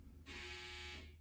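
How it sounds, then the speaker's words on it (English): A home clothes dryer's buzzer sounds off in a quiet room, one steady electronic tone holding for about a second before it cuts out. "That's my dryer going off again."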